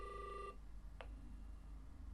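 A pink electronic toy telephone from a board game plays a short burst of bright electronic tones, then goes quiet except for one brief click, heard close and alone.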